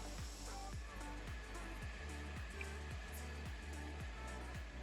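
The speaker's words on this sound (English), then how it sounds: "The process looks like grinding." A diamond floor grinder fitted with PCD tooling strips paint and concrete coating from a floor, giving a loud, steady grinding roar with a regular pulsing thump about twice a second, continuous throughout.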